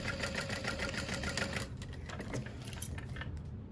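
A sewing machine stitches through tape beneath a slit in a wallet, running as a steady, fast mechanical whir that fills the whole stretch, with no voices.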